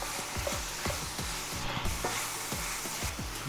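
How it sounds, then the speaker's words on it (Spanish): Thinly sliced beef for a Philly cheesesteak sizzles in a hot pan as a utensil stirs it, rhythmic scraping and clacking strokes over a constant close frying hiss. "Y vamos a revolver todo"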